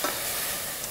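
Risotto rice sizzling and hissing in a hot pan as it is stirred, a brief, close, steady frying crackle.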